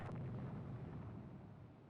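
A light cruiser blows up in the naval strategy game Rule the Waves 2: a loud, deep explosion boom that rumbles heavily and slowly fades over two seconds, with no voices over it.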